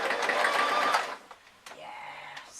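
Sewing machine running a row of stitches on a pyjama vest top, a steady loud whirring burst for about a second, then stopping and giving way to quieter clicks and a low mechanical hum.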